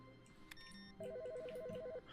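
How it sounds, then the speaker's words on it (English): A phone rings in the video game The Stanley Parable, a quiet electronic warbling trill alternating rapidly between two tones for about a second after a few soft clicks. "Is that a phone ringing?"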